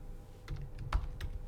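A few quiet, scattered keystrokes on a computer keyboard, soft taps spaced out over a moment with no talking.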